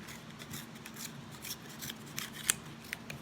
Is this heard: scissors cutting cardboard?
yes